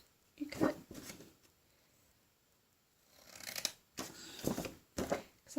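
Scissors cutting card stock for an A2 card box holder: a few short, close rasping snips in quick clusters, separated by quiet pauses.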